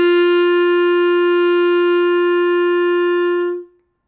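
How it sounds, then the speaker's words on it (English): A single clarinet note G held steadily for about three and a half seconds, clear and close with a pure, even tone, then released into silence with no talk. "Let's learn how to play the note G on clarinet."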